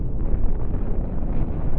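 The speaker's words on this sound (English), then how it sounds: "Nuclear explosion, not a lot of damage there." A nuclear explosion in the space-battle game Cosmoteer, a loud sustained low rumbling roar that rolls on without a sharp attack, with no voices.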